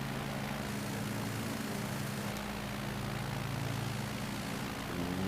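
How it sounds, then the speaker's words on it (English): A propeller airplane takes off in Microsoft Flight Simulator 2020, a steady, droning engine hum with a low harmonic buzz, held at constant strength throughout with no talk. "This might be my favorite takeoff location I think I've ever done in this game so far."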